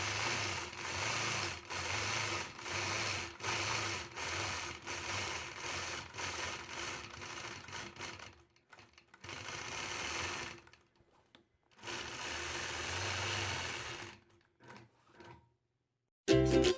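A sewing machine quilts a block, stitching in the ditch in bursts of rapid whirring, with steady pulsing runs at first, then a few short stops and restarts, close and alone.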